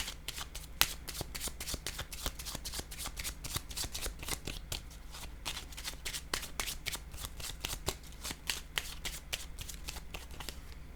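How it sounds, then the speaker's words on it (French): Tarot cards shuffled and laid down during a card reading: a long run of quick crisp riffling snaps and flicks, close and steady, with no voices. "Je vais déposer une carte encore"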